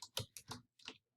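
Four or five short bursts of clicking keystrokes on a computer keyboard, close and fairly crisp, with brief pauses between them and no talking.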